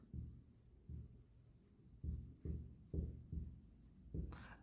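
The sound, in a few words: writing a balance sheet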